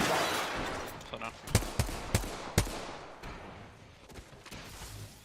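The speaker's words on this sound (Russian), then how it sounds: "Я выломал двери снизу." Doors being smashed in Apex Legends, a short run of four or five heavy thuds clustered together over a loud noisy game backdrop, fading afterward into softer ambient rumble.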